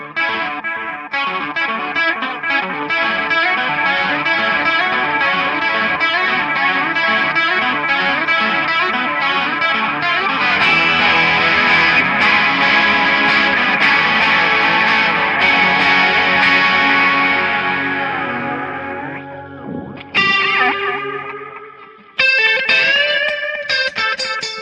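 An electric guitar plays through a Joyo Ironman Series effects pedal, giving a heavily distorted, chorused tone in sustained chords and riffs that swell louder midway, then break into short stabs near the end.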